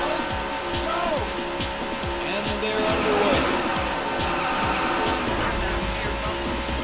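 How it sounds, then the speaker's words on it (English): Many car engines roar and rev in rapid falling pitch sweeps, race cars passing one after another amid a dense, loud mechanical din. "Gentlemen, start your engines."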